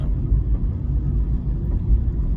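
A car's engine rumbles low and steady from inside the cabin while driving, a constant dark drone with no voices.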